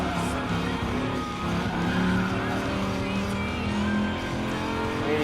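A race car slides through the bus stop corner in Gran Turismo Sport, its engine holding a steady, loud drone with faint tire skidding, heard up close and continuous.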